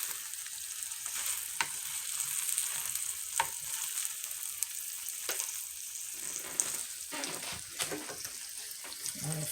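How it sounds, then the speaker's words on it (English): A steak sizzles in a pan with a steady, bright hiss and scattered sharp pops and spits, fairly close and without any talk over it. "I'm gonna let that steak cook"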